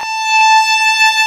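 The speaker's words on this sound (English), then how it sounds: "So if we play an open string A drone, we're going to sound like this." A bowed violin note sustains steadily over a droning open A string, bright and close, holding one pitch for a moment.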